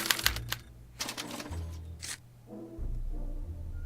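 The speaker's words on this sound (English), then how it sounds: "As the responses are recorded, they're relayed to this special typewriter, which prints out a punch card that represents the subject's mind map." A special typewriter in the Back to the Future video game prints a punch card, with clacking key strikes and low mechanical hums. A deep droning tone sits underneath, then the rattle fades.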